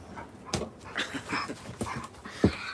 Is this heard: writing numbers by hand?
no